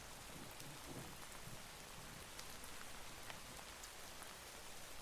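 Steady rain pours throughout a storm in a video game set on rocky shores, with scattered raindrop patter and a faint low rumble of distant thunder near the start.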